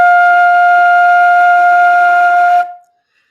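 A flute sustains a single clear F note, steady and bright, for about two and a half seconds before stopping abruptly, with no voice over it.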